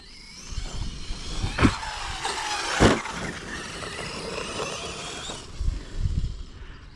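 Car engine stuttering and misfiring as it accelerates, a broken, uneven sputter with a few louder bursts, heard close with no talk.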